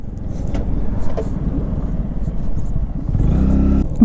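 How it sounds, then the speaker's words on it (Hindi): A steady rumble of vehicles passes along a village road in Jammu and Kashmir, with the engine noise swelling near the end as one comes closer. "यहाँ पे कुछ गाड़ियाँ आ रही कुछ आ रही हैं"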